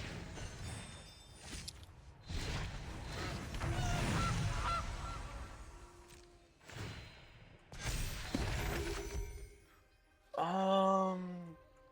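A short burst of goose honks, the digital sound effect for casting Gilded Goose in the MTG Arena card game, rings out near the end after a stretch of quieter whooshing game sounds.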